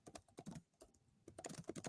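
Rapid clicking of computer keyboard keys comes in quick bursts with a short pause midway, faint and close, with no one speaking.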